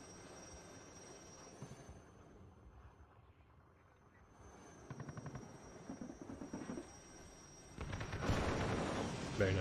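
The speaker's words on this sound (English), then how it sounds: "Poor Alouette is getting harassed by the UAZ with the KPVT." In the WARNO strategy game, an Alouette helicopter is under fire from a KPVT heavy machine gun mounted on a UAZ, with a steady rotor drone and rapid bursts of gunfire rising near the end, low in level.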